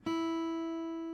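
A single sustained note on a guitar's high E string rings clearly on its own, slowly fading after the pluck.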